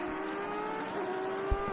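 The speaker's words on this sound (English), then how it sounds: "Flat out in the Porsche." A Porsche race car runs flat out at speed, a steady sustained high engine whine with a slight pitch shift midway, heard at moderate distance with a brief thump near the end.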